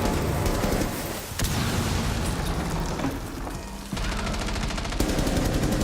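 Dense, continuous gunfire rattles through a Rainbow Six Siege round, with rapid shots and brief drops in intensity between bursts, loud and close with no talk.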